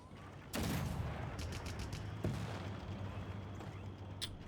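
Tank cannon fire in Civilization 6 during a multiplayer match: one heavy boom lands, then a second sharper blast a couple of seconds later, with a rumbling low drone and scattered battle noise continuing beneath.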